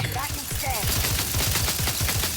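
Rapid automatic gunfire in the video game The Outer Worlds 2, a fast, evenly spaced stream of loud shots rattling continuously throughout.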